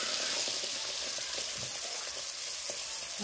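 Baursak dough pieces frying in hot oil give a steady, close sizzle and crackle that runs unbroken throughout, with faint pops and no talking.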